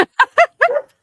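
A dog gives four short, close yips and barks in quick succession, the last one drawn out into a whiny bark, loud and alone.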